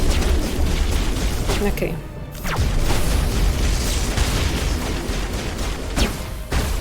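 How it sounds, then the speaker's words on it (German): Rockets explode in the video game Mass Effect Legendary Edition, booming blasts amid dense, loud combat noise, with a brief dip before the rumble resumes; a voice speaks briefly over the din. "Wow, Raketen. Geh in Deckung, Frau."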